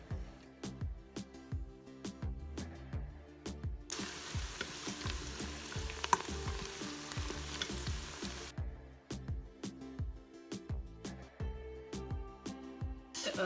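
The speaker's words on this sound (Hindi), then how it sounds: "ये प्याज जो है वो मैं डाल दूँगी, फ्राई कर लूँगी।" Steady sizzling of onions frying in hot oil in a pressure cooker on sauté mode, with repeated clinks and scrapes of stirring and a burst of louder hissing in the middle.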